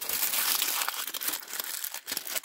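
A scrap of paper is crumpled up by hand at close range, a dense continuous crackling and crinkling that runs for a couple of seconds with small irregular bursts and no talk.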